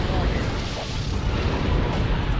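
A MAC cannon fires in a Halo Wars cutscene, a dense, roaring blast of broadband noise that fills the whole moment loud and close, with no pause or separate shots.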